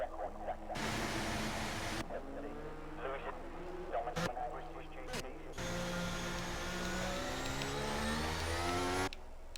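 Racing cars in a video game driving out onto the track at Silverstone: droning, shifting engine whines that rise and fall, with a commentator talking over them throughout.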